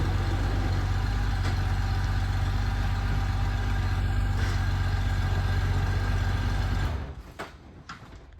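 A Honda Goldwing motorcycle ridden through a corner, its engine holding a steady, close drone for several seconds before falling away sharply as it moves off, leaving only faint knocks behind.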